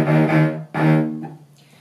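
A cello sounds a low E flat on its C string, bowed twice: a sustained tone, a short break, then a second stroke that tapers off. Close and clear, with no talking.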